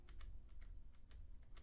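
Soft, steady typing on a 2014 Razer BlackWidow Ultimate Stealth mechanical keyboard: muted, quiet keystrokes in a quick, uneven rhythm, close up, with no talking.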